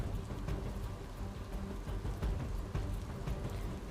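Persistent rain falls steadily on a waterlogged street in Lakhani, Banaskantha, making a continuous patter of drops hitting water and hard surfaces, moderately close, with no speech.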